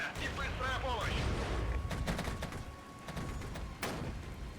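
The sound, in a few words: gunfire in the video game Regiments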